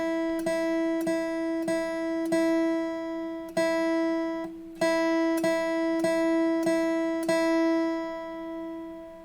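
Open low E string on guitar picked as a steady single note in an even beginner exercise, about a dozen clear plucks with a short pause midway, fairly quiet and unaccompanied.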